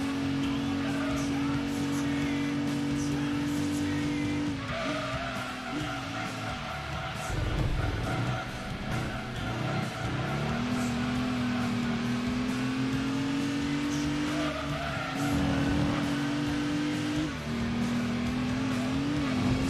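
Race cars in Gran Turismo 2 accelerating and running flat out, a continuous loud engine whine with pitch climbing through gears and dropping at shifts, under a commentator's voice.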